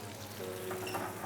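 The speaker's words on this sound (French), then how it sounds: "Nos dattes sont en train d'être cuites" Dates and raisins cook in a pan with a soft, steady sizzle, faint and close, briefly rising with a light stirring scrape near the end.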